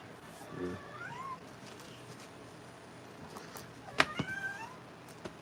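A pet cat meows a few times, a drawn-out call early on and a sharper, louder cry near the end, close to the microphone over a quiet room with faint background noise.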